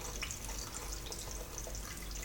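Home-brewed black IPA wort poured through a funnel, a steady hissing trickle and splash of liquid running continuously with no voices.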